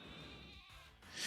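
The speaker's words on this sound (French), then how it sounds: "Un mouton." A sheep Pokémon in Pokémon Sword gives a short electronic bleat, a wavering tone at moderate volume over faint game background sound.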